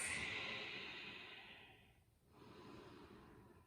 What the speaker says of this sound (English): Deep Ujjayi breath.